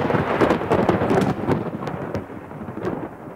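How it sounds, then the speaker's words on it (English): A huge thunderstorm with rumbling thunder and steady heavy rain, loud and continuous, easing slightly toward the end, with no voices. "Huge thunderstorm."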